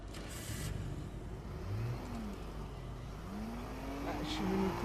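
A car engine in a video game hums steadily with rising and falling revs, a low continuous drone under faint game ambience, with voices talking over it at times.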